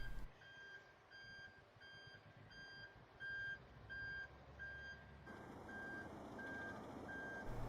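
A reversing lorry on a CAT C driving test manoeuvre sounds a steady series of regular electronic warning beeps over a low engine rumble, with a brief hiss midway and the beeps continuing at an even pace.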